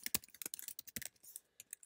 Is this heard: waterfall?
no